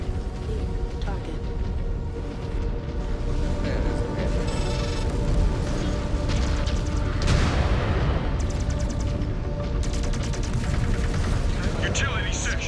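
Mech combat in a video game, with dense layered weapons fire and booming explosions that rumble on without a break, and a game voice speaking over the barrage.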